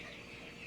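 A short, continuous bit of clucking from a small bantam chicken at a nesting box, soft and steady, with no other sounds.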